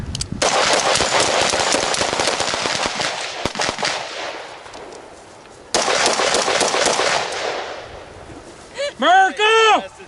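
Rapid rifle or carbin gunfire at a close-range shooting drill, loud bursts of repeated shots filling most of the stretch with a brief pause midway, then a voice speaking at the end.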